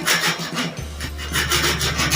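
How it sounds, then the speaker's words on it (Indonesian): A metal hand file rasping back and forth across a welded and hardened bandsaw blade, steady scraping strokes close up with no talking. "Nah, dikikir begini dia lembut, berarti sepuhnya itu adalah benar teman-teman ya"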